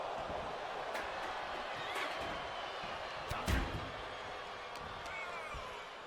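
A wrestler slams an opponent in WWE 2K23, a single heavy thud on the mat about halfway through, heard over crowd noise and commentary.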